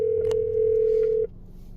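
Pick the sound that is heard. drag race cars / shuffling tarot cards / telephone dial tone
telephone dial tone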